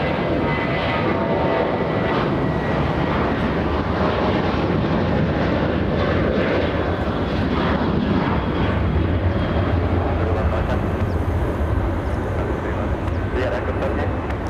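A Delta Boeing 767 jet from Salt Lake City comes in to land at LAX, its engines giving a loud, continuous roar with wind noise, while someone talks over it.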